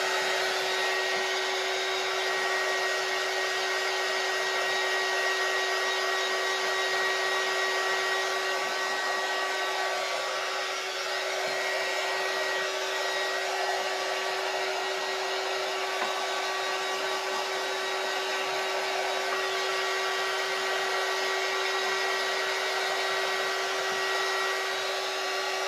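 A hair dryer blows continuously for the whole stretch, a steady, close whooshing roar with a constant motor whine and no talking.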